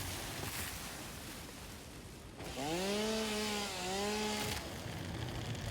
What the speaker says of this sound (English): Let's chainsaw some things like cool guys.